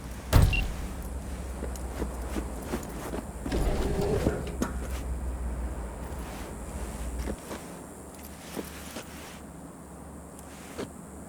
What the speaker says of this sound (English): Go ahead, kill the engine.